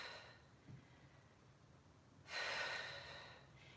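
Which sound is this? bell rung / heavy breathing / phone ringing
heavy breathing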